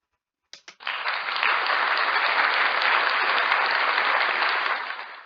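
Applause from a group, which begins with a couple of sharp claps and swells into steady clapping that holds evenly, then fades slightly toward the end.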